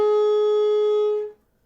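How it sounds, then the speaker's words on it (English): A saxophone sustains one long overtone note, a B flat sounded on the low F fingering, pure and steady for just over a second before stopping, close and alone. "I'm going to start on the long F with the overtone B flat."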